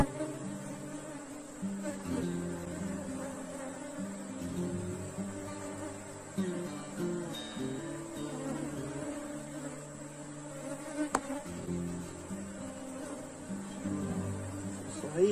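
Bees buzz steadily around an open hive as a queen is caged inside a small cage over the brood comb, a continuous close drone with a few sharper clicks and handling noises.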